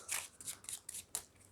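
Playing cards riffled and slid together while a chosen card is shuffled into the middle of a deck, a series of five quick, crisp papery bursts close up with short pauses between them.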